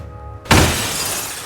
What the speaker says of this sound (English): Sounds like glass breaking.